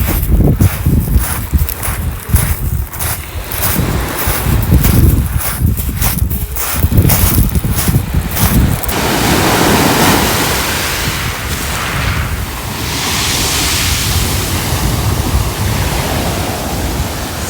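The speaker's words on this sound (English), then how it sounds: "So we're sitting here on Ringstead Beach, waiting for the tide to come out a bit more." Waves and wind on Ringstead Beach, a loud steady rush of surf and gusting air close by, with rougher crunching texture in the first half that smooths into an even washing roar.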